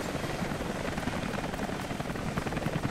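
A helicopter in Rise of the Tomb Raider drones steadily with a dense rotor roar, loud and unbroken throughout.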